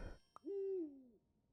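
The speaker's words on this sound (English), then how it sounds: "And I take the eagle owl." A stylised eagle owl hoot from the game Super Auto Pets, heard as one clear, fairly loud tone that rises and then slides down over about three quarters of a second, following a short click, with no voices.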